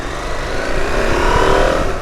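Husqvarna Norden 901 motorcycle engine pulling hard on a road, a loud steady roar building slightly in intensity throughout with continuous wind rumble underneath.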